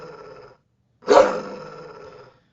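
A dog in a game demo lets out a low rumbling growl, falls silent, then erupts into a loud, sharp snarling snap that trails off over about a second.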